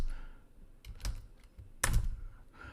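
Keystrokes on a computer keyboard as a Windows password-recovery command is entered, a few sparse, uneven clicks with a sharper cluster near the end, close and without talk.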